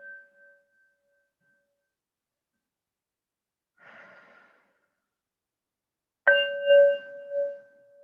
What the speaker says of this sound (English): I'll strike the bowl a few times and I invite you to breathe along with it.